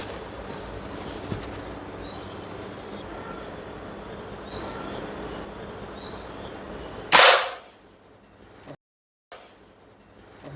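An NS100 air rifle fires once at a target at close range in a home shooting setup, a single sharp, loud crack followed by near silence, after several seconds of quiet background sounds.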